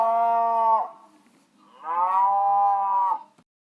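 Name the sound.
cow mooing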